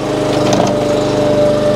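A small French-made mini excavator engine turns over and catches, giving a buzzing, lawn-mower-like drone that runs steady and loud nearby, with a brief rattle as it starts.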